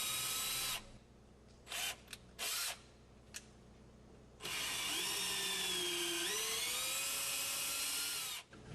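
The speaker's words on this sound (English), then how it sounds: "Now I'm going to use a 1/4-inch drill bit and clean out the 2 front ports on the manifold itself." A power drill with a 1/4-inch bit cleans debris from the front ports of a Cretefill pump manifold, with several short whirring bursts followed by a long sustained high whine that shifts in pitch as it loads.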